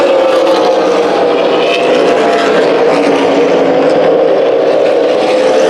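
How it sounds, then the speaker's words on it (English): Race cars roaring around the oval at Kern County Raceway, a dense, loud, continuous engine drone from several cars racing aggressively together, steady with no pauses. "There's a lot of aggressive racing going on in the last 15 laps of this race."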